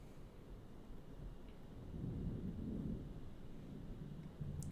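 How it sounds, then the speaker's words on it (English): Thunder rumbles low and distant, a faint rolling swell that builds in the middle and slowly fades, heard alone over a quiet, hissy background. "That's some major thunder."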